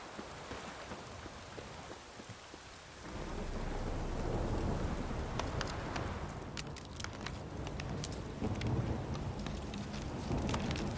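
Rain and a thunderstorm in The Witcher 3 video game: a steady wash of rainfall that swells into a heavier roar with a rumble of thunder, then scattered close drips and patters over the downpour.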